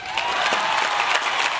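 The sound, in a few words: crowd applauding and cheering at homecoming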